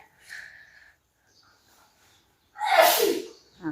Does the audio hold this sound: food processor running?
no